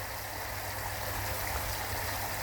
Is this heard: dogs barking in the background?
no